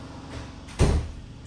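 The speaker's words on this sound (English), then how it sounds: "I'm going to go close my utility room door before my washing machine drives everybody mental" A utility room door is pushed shut with a single muffled thud against a steady background hum, probably from a running washing machine.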